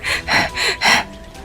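A young man gasping hard for breath after running, four heavy rasping pants in a steady rhythm, close and loud, with no other voices.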